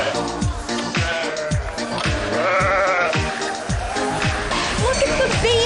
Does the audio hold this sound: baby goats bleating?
yes